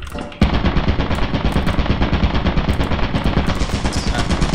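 Automatic turret gunfire in a video game, a loud, dense stream of rapid shots that starts abruptly and keeps firing without a break to the end.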